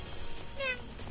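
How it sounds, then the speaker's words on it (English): Cat meowing in the video game Final Fantasy X, a single short high meow in the middle, faint over a noisy game background. "there's a fuzzy cat back there!"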